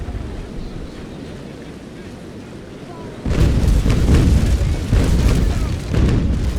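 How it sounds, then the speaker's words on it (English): Ship cannons firing in the naval battle game Naval Action: a quiet stretch of sea and wind ambience, then a heavy run of booming broadside shots rolling together, loud and close. "So we might be able to shoot the front of the ship again."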